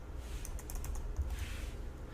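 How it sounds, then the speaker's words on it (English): Keystrokes on a computer keyboard typing a short command, a quick burst of light clicks close up followed by a brief pause, with no speech. "I'm going to type in CSC and then /help"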